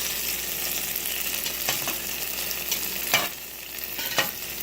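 Egg foo yung frying in a pan, a steady bright sizzle with a few soft scraping stirs of a spatula breaking through near the end, no talking.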